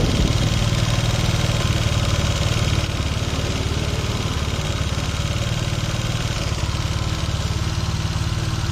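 A motorcycle engine idles steadily close by after electrical repair work, with a loud, even low throb and rough mechanical rattle that holds unbroken throughout.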